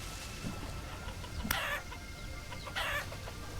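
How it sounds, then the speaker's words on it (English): Chickens cluck in the Vintage Story video game, two short bright bursts standing out over a steady low background, with no talking. "There's a chicken right there."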